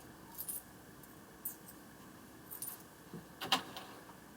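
New coins jingling in a hand, a few brief metallic clinks and rattles spread across a few seconds, with one sharper bright clink near the end, quiet against faint room hiss.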